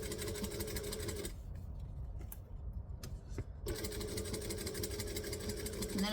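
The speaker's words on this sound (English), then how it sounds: "I'm going to stitch, back stitch out of habit," A sewing machine back stitching a seam runs in a steady mechanical whir, stops for about two seconds with a few small clicks in the pause, then runs again at the same speed, close and even.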